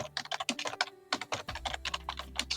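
Rapid typing on a computer keyboard, a dense run of close, crisp key clicks in an uneven rhythm, with a low steady hum underneath.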